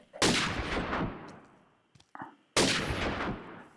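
Two loud, close gunshots from a Minecraft mod firearm, each with a sharp crack and a long decaying boom. A faint clatter falls between them.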